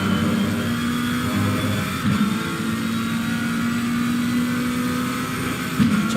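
A GT3 race car at full speed around Misano in Assetto Corsa Competizione, its engine holding a steady, loud drone through the whole stretch with only slight pitch shifts and no speech.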